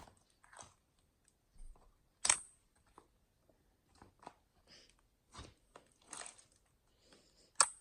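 Clear toothpaste slime is poked, giving soft, faint, close squishes and small crackling pops that come at scattered intervals with near silence between, no talking.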